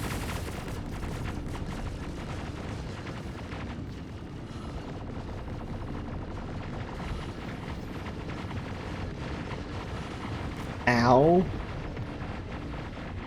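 Point defense cannon fire in a space combat video game sounds as dense, continuous rumbling gunfire and explosions throughout, with a louder burst near the end, under a brief pained exclamation from a player.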